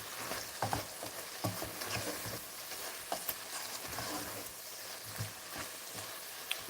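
Onions fry and caramelize in a pan for chicken à la king, a steady close sizzle broken by soft stirring scrapes and light pops, with no talking.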